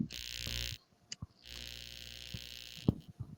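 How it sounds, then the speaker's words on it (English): A steady electric buzz hums through a room in two long stretches with a short break between, broken by a few sharp knocks and bumps, with no talking. "y'all hear that buzzing?"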